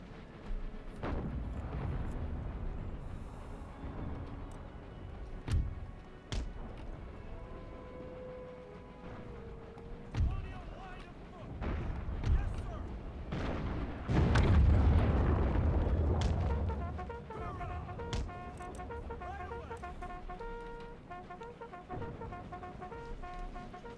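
Booming musket volleys and artillery fire from an Empire Total War Empire 2 Mod battle in a 13 Colonies campaign, with scattered deep blasts, a heavy rumbling barrage in the middle and crackling shots later, moderately distant.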